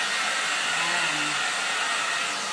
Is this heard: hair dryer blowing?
yes